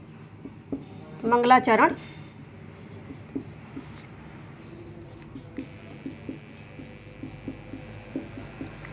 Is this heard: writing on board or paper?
yes